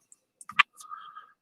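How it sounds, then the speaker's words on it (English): A computer keyboard is shifted across a desk, giving a few light clicks and knocks followed by a short sliding scrape, close and distinct in a quiet room. "let me move this keyboard out of the way"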